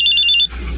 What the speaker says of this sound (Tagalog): may tumatawag sa cellphone ko